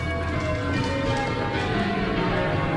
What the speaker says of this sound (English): time is marked by the bells of a medieval abbey